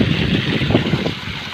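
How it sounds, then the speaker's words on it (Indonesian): An aeration blower runs beside a fish pond at Cirata Reservoir, a steady close whooshing roar of air and churning water, with no voices. "Nah, ini dia ketika mesin blowernya sudah nyala."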